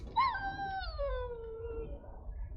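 A dog in Dragon Age: Origins gives a single drawn-out whimpering howl that slides downward in pitch, heard clearly over a low background rumble.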